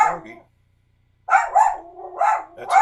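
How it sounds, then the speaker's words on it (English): Astro, a pet dog, gives a short bark, falls silent for a moment, then lets out a run of three or four loud, close barks in quick succession. "That's Astro Dog."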